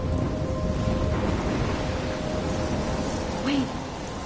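A storm in Life is Strange roars steadily with dense rain and wind noise throughout, loud and close, with a brief tonal sound near the end.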